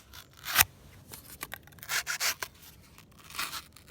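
A Giant Mouse GMF2 fixed blade knife saws through thick cardboard, giving rough scraping and tearing strokes in short bursts, close up with no voices.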